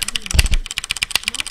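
Rapid, uneven keystrokes on a computer keyboard during a StarCraft II session, with a repeatedly jammed S key; sharp close clicks alone, with a heavier thump near the start.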